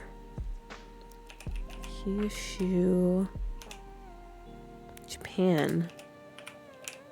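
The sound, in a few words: typing on a computer keyboard with one hand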